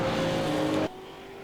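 A late model stock car roars past at full throttle at Lucas Oil Raceway in an SRST Pro Series race, a loud, dense engine tone that cuts off abruptly partway through, leaving a quieter fading rumble.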